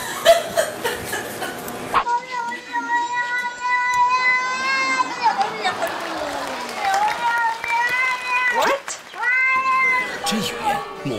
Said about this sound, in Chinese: 喵星人有自己的外星语言。